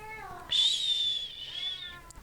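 A cat lets out one drawn-out meow, fairly close and clear, sliding into a long high-pitched whine that fades near the end; a faint hushing sound precedes it.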